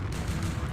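Cannons fire in the strategy game Empire Earth, a dense barrage of overlapping booms and crackling shots filling the short battle moment without pause.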